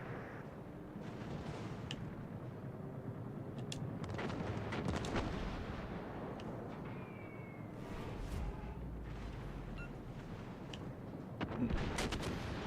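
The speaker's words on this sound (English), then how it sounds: "Only one bomb hit" A naval battle in World of Warships: Legends sounds as a dense, continuous rumble of distant gunfire and explosions, with a bomb impact blended into the ongoing din and a slightly louder burst near the end.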